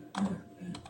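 Short burst of typing on a computer keyboard, two quick clusters of close, crisp key clicks within a second, with no speech over them.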